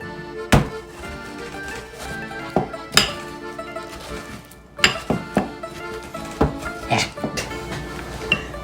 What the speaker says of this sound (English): So now the mashing has been completed